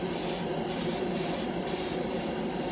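An airbrush sprays Mr. Color lacquer paint over a scale model in a steady, hissing stream that runs without a break, with faint rhythmic dips.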